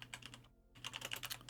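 Rapid clatter of keys on a computer keyboard, two quick bursts of close typing split by a short silent gap, with no talking.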